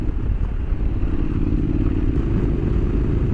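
Honda NC750X motorcycle with DCT gearbox rolling over bumpy road, a steady low engine drone with dense rumble and light clatter, close and loud throughout, no voices.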